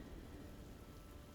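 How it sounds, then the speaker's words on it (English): Steady rain pours with a low thunderous rumble underneath during a storm in the video game Diablo IV, a dense, even wash of sound with no voices. "So let's enjoy the storm a moment."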